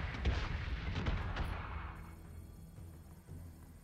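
A torpedo salvo in the space combat game Battlestar Galactica: Deadlock fires as a cluster of heavy booming blasts with sharp cracks, loud at first, then rumbling away into a fading hum.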